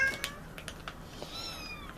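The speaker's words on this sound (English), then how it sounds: "Here's the mama cat and 3 of the kittens" A mother cat with her kittens gives a few soft, faint meows close by, scattered irregularly over a quiet indoor background.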